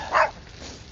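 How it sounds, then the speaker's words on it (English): A small dog lets out a single short, sharp bark at middle distance, followed by quiet ambience. "There goes that dog again, just waiting to get me."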